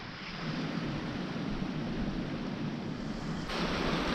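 A mountain creek flowing beside camp in the South San Juan Wilderness, Colorado, a steady broadband rush of water, close and continuous, rising slightly near the end.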